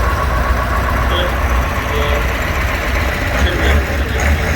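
A diesel tractor with a Perkins engine idles nearby with a steady low rumble and a knocking chug, while a voice talks over it.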